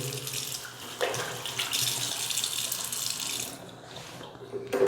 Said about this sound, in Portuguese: e aí coloca aqui na torneira, ó, abre a torneira